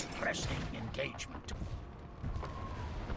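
Cannon barrage in the strategy game Anno 1800, a naval harbor assault: several booming artillery shots and rumbling impacts over a steady background, with a voice speaking briefly over the barrage.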